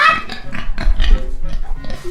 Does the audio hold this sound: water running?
no